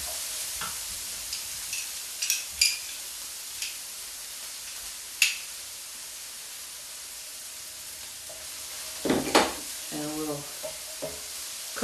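Freshly pressed garlic sizzles in a hot pan with a steady, fairly quiet frying hiss. Scattered clicks and taps of a utensil against the pan break through, and a voice speaks briefly near the end.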